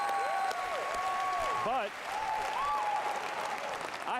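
A large audience claps and cheers throughout at Bethesda's 2019 video game press conference. The applause is loud and continuous, with a voice speaking over it and electronic tones sliding in the background.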